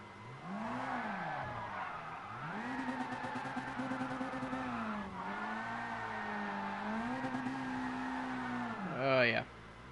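Racing car tires squealing in a racing video game, long sustained screeches that rise and fall in pitch over a droning engine, loud and continuous, ending in a sharp rising whine.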